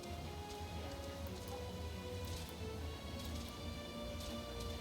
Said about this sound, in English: it's hard to see anything through all this rain